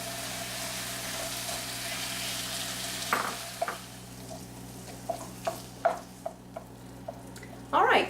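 Horseradish and cream cheese soften in a hot pan on low heat. A soft sizzle runs underneath occasional stirring scrapes and utensil clinks against the pan, with a steady hum in the background.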